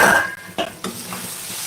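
Mutton keema cooking in a pan, with a soft sizzle and a few scraping stirs of a spoon against the metal, close by and brief, no voices.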